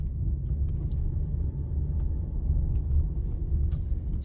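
A car driving steadily down the middle of a lane between parked cars on a Silverwater driving test route, heard from inside as a continuous low engine and road rumble with no talk.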